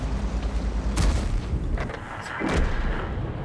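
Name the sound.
gunfire from a gun in a video game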